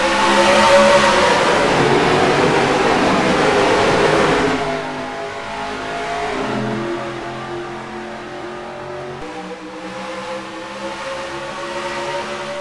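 Several NR2003 sim race cars roar past at the start, loud and close, then settle into a steadier, more distant engine drone with overlapping revving pitches and no talk.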